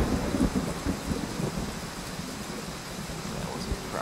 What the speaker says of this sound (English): especially with the thunder and stuff happening